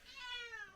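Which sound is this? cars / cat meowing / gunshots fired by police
cat meowing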